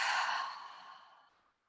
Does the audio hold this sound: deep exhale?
yes